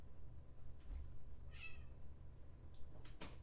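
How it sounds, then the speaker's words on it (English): A house cat gives a single short meow, faint and fairly close, over a low steady room hum while a computer strategy game plays. "So my cat is being a pain in the rear"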